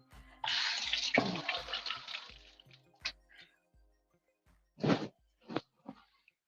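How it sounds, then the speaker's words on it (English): Tap water runs over a piece of fruit in a sink for about two seconds, then the stream stops. Several short splashes and drips follow as the fruit is rinsed and handled nearby. "Let me wash this off real quick."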